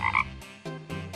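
A cartoonish frog croak from a Final Fantasy video game: a few loud, close croaking bursts, the first two clipped and bright, then lower and longer croaks, with no talking.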